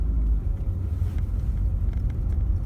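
Cars pass on a residential street in an older neighbourhood, a steady low engine and tyre rumble at moderate distance with no talk.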